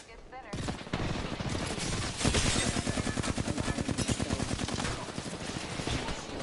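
Automatic gunfire in the video game Apex Legends, rapid repeated bursts of shots firing close and loud in a dense, rhythmic stream with a few seconds of sustained fire.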